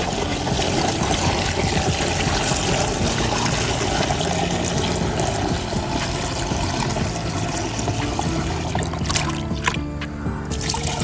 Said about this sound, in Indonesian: kemudian ini langsung masukkan ke dalam tangki sprayer seperti ini